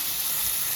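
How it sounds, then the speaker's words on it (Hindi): Cumin, onion and tomato sizzle in hot oil for a pasta tempering, a brief, steady, close hiss of frying with no voices. "मैंने अभी इसमें छोंक लगाया है और ऑयल डाला, फिर जीरा, फिर प्याज और फिर टमाटर।"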